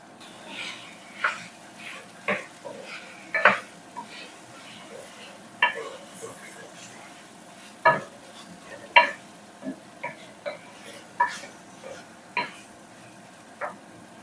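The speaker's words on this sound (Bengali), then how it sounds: "এখন লামাইবার সময় দিব আমি কিছু কাঁচা পেঁয়াজ" Raw onions go into a hot pan at home and fry with a low steady hiss, broken by repeated sharp clinks and scrapes of stirring against the metal, moderately close with no talk.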